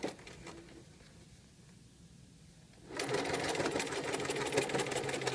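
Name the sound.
sewing machine stitching a zigzag blind hem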